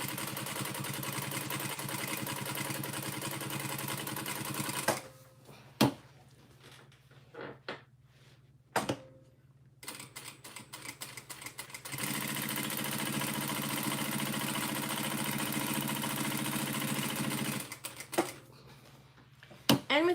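A sewing machine stitches a purple quilted tote at stitch length 5. The motor hums in long, even runs, broken midway by pauses with scattered clicks and handling noises, then resumes steadily.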